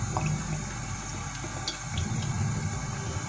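Cooking oil pours in a continuous liquid stream for a few seconds, close and fairly loud, with no voices.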